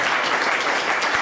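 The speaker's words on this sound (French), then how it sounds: "Est-ce qu'on peut acclamer le Seigneur Jésus-Christ?" A church congregation claps in a dense, even burst of applause that stays loud and close for its whole short length, with no speech over it.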